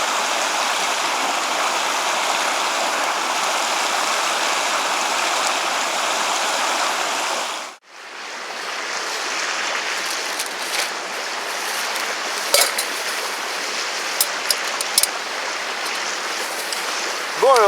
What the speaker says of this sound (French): Il n'y a que le bruit de l'eau à côté